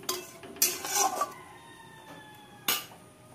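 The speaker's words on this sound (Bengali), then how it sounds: "এর মধ্যে একে একে যে মাছের পিসগুলো সব ছেড়ে দিচ্ছি" Fish pieces dropped one by one into a pan of simmering Bengali fish curry (kalia), giving a few sharp clanks and splashes with a faint bubbling and clatter between them, close by.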